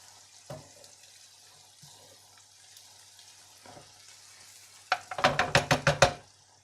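Onions and mushrooms fry in rendered bacon fat, giving a soft crackle with a few isolated pops early on, then a close burst of rapid, loud sputtering bursts near the end.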